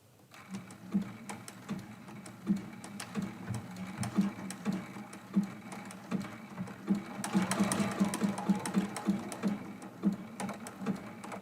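A sewing machine stitches a satin stitch in steady, rapid mechanical rhythm, a close, moderately quiet whirring hum with regular needle clicks and no voices.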